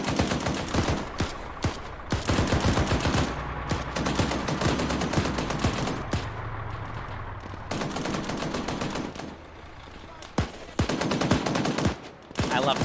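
Sustained suppressive gunfire in the military game Arma 3, dense bursts of automatic weapons fire overlapping with single shots, loud and near, pausing briefly before resuming.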